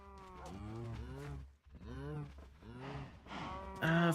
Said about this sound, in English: First of all, we have a bunch of cow, which is good.